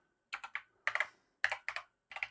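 Keys clatter on an Acorn Electron home computer keyboard, typed in quick bursts of three to four crisp, close clicks with short pauses between groups.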